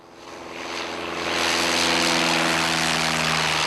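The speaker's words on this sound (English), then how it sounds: "Mostly small single-engine aircraft, private and university-owned." A small single-engine propeller aircraft at Ohio University's Gordon K. Bush Airport runs up nearby, its engine drone swelling from a low idle to a loud, steady roar with a throbbing propeller beat.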